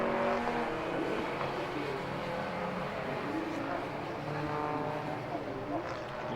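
Racing cars, including a BMW Z3, run on the Silverstone circuit, their engines giving a steady, droning roar under continuous commentary.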